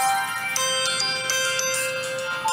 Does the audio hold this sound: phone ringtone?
yes